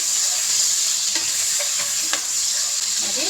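Thinly sliced onions and green chillies sizzle steadily with spices in a pan for mutton curry, with a few light stirring scrapes and clinks rising over the constant frying hiss.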